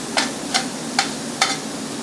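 Shrimp fry in a hot pan, a steady soft sizzle broken by four evenly spaced sharp clicks or taps, close and alone without speech.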